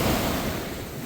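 Ocean waves wash steadily onto a beach on a sunny Marbella seafront, a broad continuous roar of surf with light wind across the microphone and no voices.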